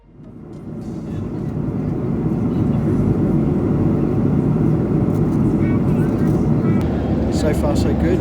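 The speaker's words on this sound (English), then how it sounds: "quite a comfortable flight today on board this TUI aircraft" Steady low roar of a TUI-operated Boeing 737-800 cabin in flight from Cologne to Vienna, rising over the first seconds and then holding a constant dense drone.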